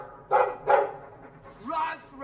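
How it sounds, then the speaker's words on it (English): A dog in the video game Dragon Age gives two sharp, close barks in quick succession, followed by a softer whining or vocal sound at moderate volume. "I like the doggy."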